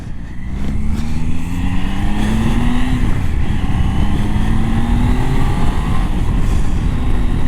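A motorcycle ridden through corners in 4th gear, engine droning loud and steady with rising and falling pitch as it pulls through the bends, wind and road noise constant underneath.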